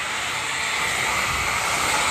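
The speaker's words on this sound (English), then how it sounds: "Chemical free, it's just hot steam. It penetrates into the grout, gets up all the dirt." Bissell PowerFresh steam mop steaming dirty tile grout, giving a steady, even hiss of hot steam that holds unbroken from start to finish at close range.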